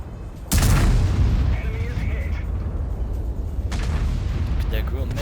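A single heavy cannon blast from a Grille 15 tank destroyer in World of Tanks, loud and booming with a long rumbling tail that carries over continuous battlefield noise, followed later by a fainter second report.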